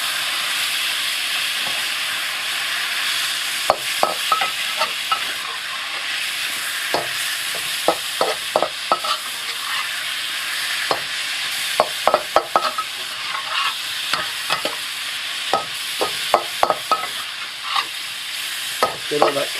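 Meat browning in a pan with turmeric sizzles steadily and loudly, with frequent scraping clicks of a spoon stirring through it and no voices.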